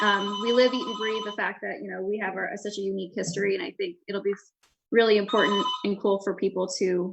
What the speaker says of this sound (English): Sorry, that's the phone.